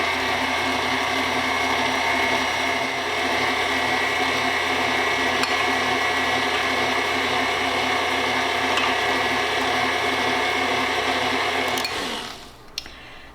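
An electric mixer blends sugar cookie dough as flour is added, giving a steady, loud, continuous motor whir that runs alone for about twelve seconds and then stops abruptly.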